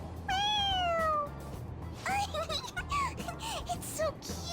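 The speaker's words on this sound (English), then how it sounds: "It meows when you press on its head." A toy cat in Persona 5 Royal gives a high, sliding meow that rings out clearly, followed by a burst of excited chatter and more short chirpy squeaks over a low steady hum.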